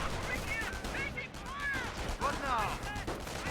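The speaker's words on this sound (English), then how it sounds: "MP4 is firing away." MP40 submachine gun bursts in the World War II strategy game Company of Heroes, quick rattling volleys mixed with other battle gunfire and ricochet-like whines, steady and moderately loud throughout.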